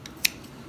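A single crisp snip of scissors cutting a yarn strand while making a knitted bunny scarf by hand, one short sharp click in a quiet room.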